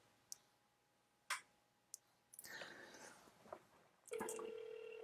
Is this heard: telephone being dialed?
yes